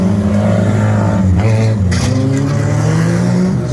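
Banger race cars race around Barford Raceway in a winter oval race, with loud engine roars shifting in pitch as the cars pass and accelerate and a brief clatter in the middle, all continuous and close.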